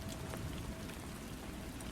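Steady rain falls continuously, a dense even patter of drops on a surface, with no voices or other sounds over it.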